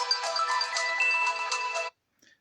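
A phone ringtone plays loudly for about two seconds as a steady melodic electronic tune, then cuts off abruptly, leaving near silence.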